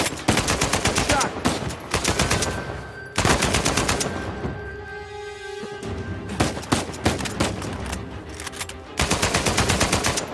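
Sustained bursts of automatic turret gunfire in the video game Uncharted 4, loud and rapid, firing in long volleys with brief pauses between them and a lull partway through, with scattered shots and distant voices.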